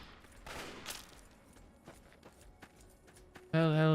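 Scattered gunfire from Fallout crackles in a few quick bursts and isolated shots at moderate distance, before a loud, steady tonal drone cuts in at the very end.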